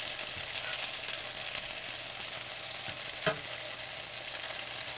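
Zucchini fries in oil with a steady, close hiss and crackle, and a fork turns the slices with a single sharp tap against the pan partway through.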